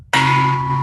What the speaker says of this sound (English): end us out on a gong